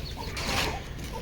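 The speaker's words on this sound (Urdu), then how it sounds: "دیکھیں یہ فائٹر مرغی ہے ہماری" Desi fighter hen clucking softly for a moment, low guttural calls close by against a murky farmyard background.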